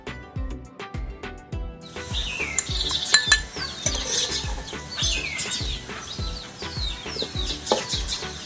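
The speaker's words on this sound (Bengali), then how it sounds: "এই যে দেখছো পেঁয়াজ কুচি এগুলো সুন্দর করে ব্রাউনি করে ভেজে নেব।" Chopped onions go into hot oil in a wok, where a run of rhythmic utensil taps and scrapes gives way to a bubbling sizzle mixed with stirring clatter.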